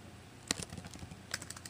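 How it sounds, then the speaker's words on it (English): Computer keyboard typing: a few quick clusters of key clicks with a gap between them, quiet and close, no voices. "Typing."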